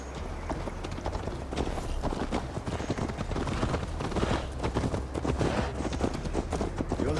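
Horse hooves clip-clop steadily as a rider travels in Assassin's Creed Valhalla, a brisk, close, rhythmic trot that continues throughout over a dense, loud background.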